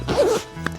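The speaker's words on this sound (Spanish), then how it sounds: "nos meten todavía una cremallera vertical para poder acceder a nuestra carga" The vertical side zipper on a RAB Ultralight 36L Airzone backpack is pulled open in one quick, close rasp lasting under a second, followed by a faint tap.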